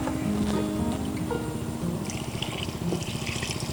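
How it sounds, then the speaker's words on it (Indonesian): Water pours into a container close by, a continuous splashing gurgle that rises in pitch as the vessel fills, lasting a few seconds with no talking. "Kita tambahkan air sampai penuh ya."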